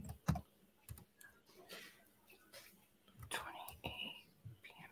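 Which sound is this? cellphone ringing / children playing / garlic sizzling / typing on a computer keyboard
typing on a computer keyboard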